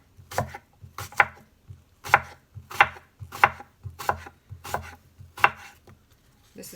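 A knife chops apples on a cutting board in a steady rhythm of sharp, close thuds, about ten strikes in under seven seconds, with no talking over them.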